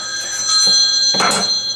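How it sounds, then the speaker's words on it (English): A phone rings in a home kitchen with short repeated bursts of electronic bell-like chirps, loud and close, with no talking over it. "My phone's ringing."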